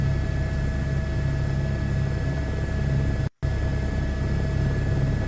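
A helicopter's steady rotor and turbine drone hums continuously in Microsoft Flight Simulator 2024, an even mechanical whine with fixed tonal lines, briefly cut by a split-second gap of silence before resuming unchanged.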